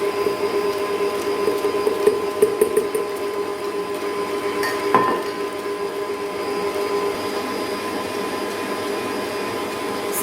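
Egg whites and sugar beaten with an electric mixer, a steady loud motorised whir with a constant hum, running without pause.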